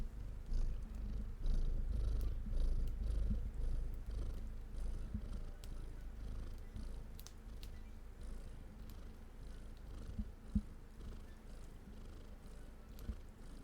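A cat purring steadily and close by, a continuous low rumble running for the whole stretch with a few faint clicks and small knocks scattered over it.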